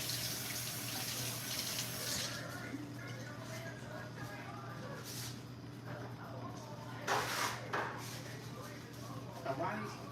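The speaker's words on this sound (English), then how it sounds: "let me rinse my hands off." Tap water runs steadily into a kitchen sink while hands are rinsed beneath it, a continuous hiss with splashy bursts near the end, close by and under a low background hum with someone talking over it.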